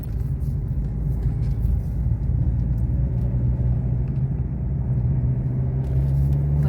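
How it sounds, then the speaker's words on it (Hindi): A vehicle rumbles and shakes along a rough, rock-strewn mountain road, a loud, continuous low engine and road drone with heavy body vibration close to the listener. "ये गाड़ी हिल रही है इतनी, क्योंकि रूट इतना खराब है यहाँ का।"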